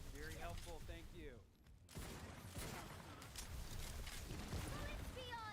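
Continuous rapid gunfire in the looter-shooter video game Tiny Tina's Wonderlands, a dense crackling barrage mixed with game effects and a brief lull, under chatty game dialogue and a voice talking.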